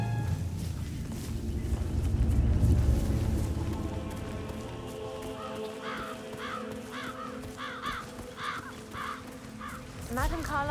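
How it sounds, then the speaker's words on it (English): Crows caw repeatedly in Hitman 3, a string of harsh calls in a loose rhythm that rises over the later half, under ambient game sound and background talk. "It's the birds. They're making a racket, droppings everywhere."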